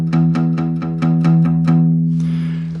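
Guitar open E string plucked repeatedly with a finger lightly resting on it, giving about eight soft, muted, evenly spaced notes over a ringing low drone, then a brief scrape at the end.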